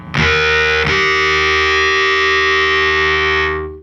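Distorted electric guitar octaves, played at the 3rd and 4th frets: one loud, buzzy, sustained chord struck twice, ringing alone and fading at the end.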